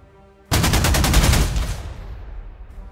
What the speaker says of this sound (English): I will bomb this guy